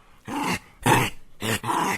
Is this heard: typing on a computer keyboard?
no